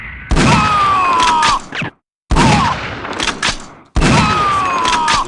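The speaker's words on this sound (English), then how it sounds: "it is a joy blasting enemy troops away" Three loud shotgun blasts go off in the shooter game Shogo: Mobile Armor Division, each with a sharp boom and a ringing tail, and thudding impacts land on enemy troops between them.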